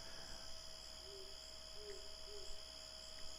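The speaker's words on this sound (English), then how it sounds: "Ooh, I hear an owl." An owl hoots in the night in the video game Mythruna, a few soft low hoots in a row, faint and distant over a constant hum of background noise.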